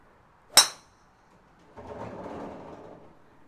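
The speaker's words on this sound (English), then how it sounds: "the last shot of the day is with the Taylormade driver" A golf ball struck with a TaylorMade driver during outdoor practice: one sharp, loud metallic crack of impact, followed by a quiet pause and then soft rushing noise, like wind or distant ambience.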